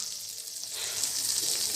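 Butter melting and sizzling in an open kadai for white sauce pasta, a steady hissing fry that grows slightly louder after a moment and continues alone without talk.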